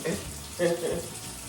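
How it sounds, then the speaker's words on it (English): Water runs from a kitchen tap in a steady hiss with splashing swells, close by, and a voice is faintly present beneath it. "I should have turned that water off."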